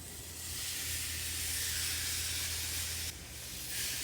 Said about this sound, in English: So listen to the sound when you put your meat down.